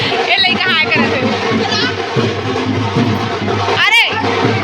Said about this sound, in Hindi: संगवारी देखो कितना भीड़ है आज मंदिर